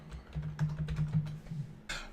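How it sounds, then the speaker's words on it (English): Fingers tap out a short word on a computer keyboard in a quiet room, a quick run of soft clicking keystrokes ending in one slightly louder key press. "So now I'll type toiletries."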